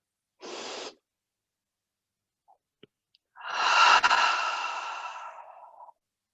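Deep breathing during a chair yoga class: a short sharp inhale, a pause with tiny clicks, then a long audible exhale that fades out slowly, close and clear in a quiet room.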